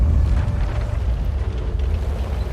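Heavy artillery shells pound a tank position in an online tank battle game, a continuous deep rumbling barrage of booms that stays loud and dense throughout without a clear break.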